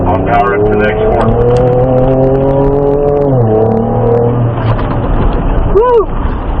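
On an off-road course, a Ford Ranger Raptor engine pulls hard between turns, a loud, close, sustained drone. The pitch drops briefly midway before the revs build again, with a short whoosh near the end.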